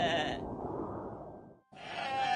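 Goats bleating loudly up close, one long wavering bleat followed after a short break by another, with no other sounds around them.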